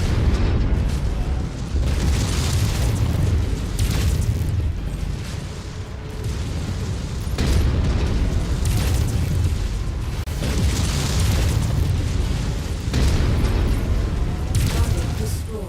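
Targets blow up in Mechwarrior 5: Mercenaries, a series of heavy, loud booming explosions recurring every few seconds amid constant rumbling battle noise.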